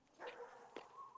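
A chihuahua barking from about 30 feet away, two short faint yips over a quiet outdoor background, distant and brief.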